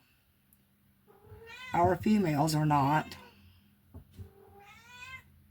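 A female cat in heat meows in long, wavering, loud yowls, one drawn-out cry followed by a shorter one close by, with a person talking in between.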